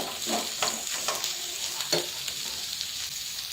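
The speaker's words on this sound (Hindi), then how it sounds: "आलू थोड़े से मैश कर लेंगे" Boiled potatoes are mashed for a samosa filling, a series of short squishing, scraping strokes in a quick irregular rhythm over a faint sizzling background, close by, with no one speaking.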